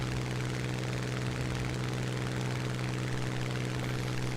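Steady propeller aircraft engine drone from a War Thunder flight climbing away from a carrier, with a strong low harmonic hum and dense broadband roar held constant throughout, no voices.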